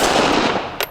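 A single sharp report from a Smith & Wesson Shield 380 EZ pistol at an outdoor range, a short crack near the end standing out above a broad rushing background.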